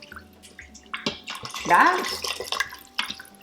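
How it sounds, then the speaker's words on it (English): Water pours from a container into an Instant Pot holding khichdi ingredients, a close splashing gurgle that swells in the middle, with someone talking over it. "You're gonna add water into this."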